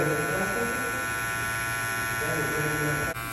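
A Babyliss LO PRO FX hair clipper with a clickable lever hums steadily and loudly close by, a constant motor buzz that cuts off abruptly near the end, with faint talk underneath.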